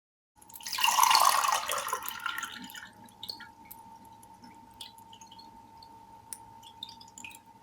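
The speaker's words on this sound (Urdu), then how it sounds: "دوسرے گلاس میں اب ٹھنڈا پانی ڈالنا ہے۔" Cold water poured into a glass and filled carefully to the brim, a brief splashing pour at the start that settles into quiet trickles and faint drips, with a steady tone running underneath.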